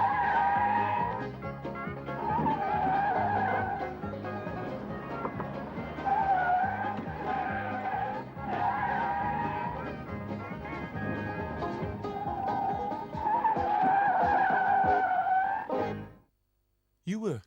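Cars driven by intoxicated drivers in a driving experiment skid hard, tyres squealing in long wavering howls over steady engine roar, nearly continuous and loud before cutting off abruptly near the end.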